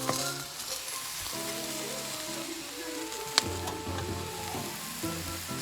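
Mushrooms roast in a pot, a dense continuous sizzle like light rain with a low tonal hum underneath and one sharp click partway through.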